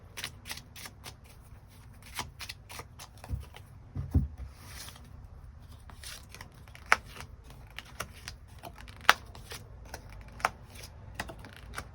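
Tarot cards are shuffled by hand during a reading, with a rapid pattering run of soft card flicks and a few sharper snaps. The sound is close, continuous and quiet, with no talking.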